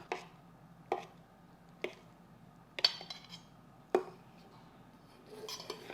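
Knife blade on a cutting board slicing boiled egg pieces smaller for egg curry, five or six sharp separate knocks spaced about a second apart, close and clear over a low steady background hum.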